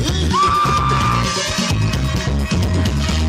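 A crowd at an outdoor political rally yells and whoops over loud, pulsing amplified music, one voice rising in a drawn-out shout, sustained and dense throughout.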